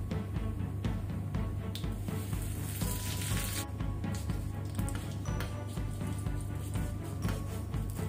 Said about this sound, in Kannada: ಈಗ ನಾವು ಇದಕ್ಕೆ ಕರಿ ಲೀವ್ಸ್ ಒಗ್ಗರಣೆ ಸೊಪ್ಪನ್ನು ಹಾಕೊಳ್ಳುವ